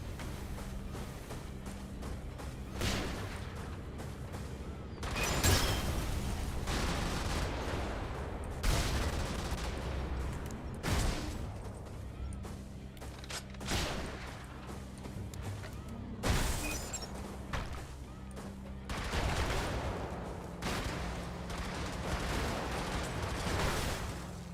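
Gunfire and heavy blasts in the mech combat game Brigador: irregular bursts of shots and sharp booming impacts spread over a long stretch, with a low mechanical hum and quieter gaps between volleys.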